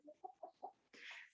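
A chicken gives several short, quiet clucks in quick succession close by, followed by a soft breathy rustle.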